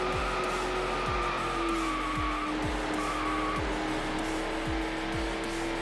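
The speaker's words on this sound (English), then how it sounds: "we're going very, very quick in the Need for Speed Edition Murcielago" Lamborghini Murcielago Need for Speed Edition racing in Need for Speed Hot Pursuit 2, engine droning steadily at high speed with rapid repeated gear-change drops and a tire squeal, loud and continuous with no talk.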